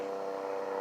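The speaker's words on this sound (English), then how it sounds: "a helicopter or something flying over right now" A helicopter passes overhead outdoors at night, giving a steady, droning hum with a low rotor buzz. It holds evenly throughout this short moment with no talk.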